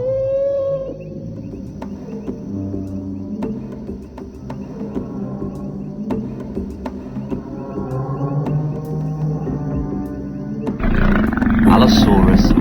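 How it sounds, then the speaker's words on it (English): A big-cat-like roar from an Allosaurus, billed as the lion of the Jurassic, sustained and loud over layered music and ambience, with a sharper burst rising near the end. "Allosaurus, the lion of the Jurassic Age"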